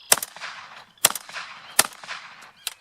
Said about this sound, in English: But I'll crack off a few shots, throw some hulls slightly forward.